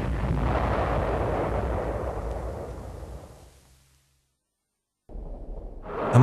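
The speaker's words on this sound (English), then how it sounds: "As the sound of its faltering motor died, it would plunge to the ground, destroying whatever was underneath it." A wartime V-1 flying bomb plunges to the ground and explodes: a long, loud rumbling roar that slowly fades away into silence, then another sharp, heavy burst erupts right at the end.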